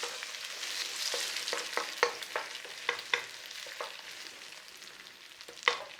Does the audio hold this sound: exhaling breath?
no